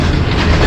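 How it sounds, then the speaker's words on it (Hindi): Shalimar Express train approaching Kotlappa railway station, a loud, close rumble of wheels and rolling stock in a brief continuous burst. "कोटलप्पा रेलवे स्टेशन ट्रेन जो है अप्रोच बना रही है"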